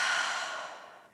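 A single soft exhale during a Hatha yoga flow, a breathy airy sigh that starts strongest and fades away over about a second, close and alone.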